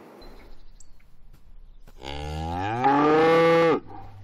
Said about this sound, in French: Voici Anémone, une vache de race vosgienne, accompagnée de ses autres amis.